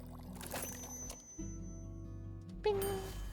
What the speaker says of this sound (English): I like the drink pouring, it's very fun.